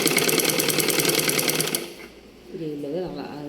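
Sewing machine stitching through cloth at a tailoring table, a fast steady mechanical chatter that runs loud for under two seconds, then stops as a voice speaks.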